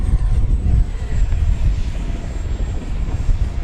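A HobbyZone Arrows RC BAE Hawk, a small 50mm electric ducted-fan model jet, whirs steadily overhead, a loud continuous airy hum with a faint high whine, close by and unbroken outdoors.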